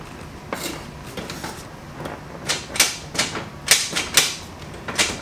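Cutting a hole in a panel of a Porsche 996 Turbo under rebuild, a series of sharp, irregular clicking snips and crunches, close and distinct, growing denser toward the end over faint background noise, no talking.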